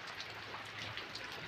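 Monsoon rain falling steadily, a dense soft patter of raindrops on surfaces, faint and even throughout with no voices.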